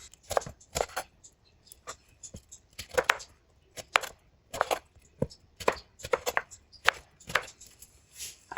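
A knife slicing through malta oranges on a board, with a series of crisp, close cutting strokes at an uneven rhythm and small juicy crunches between them.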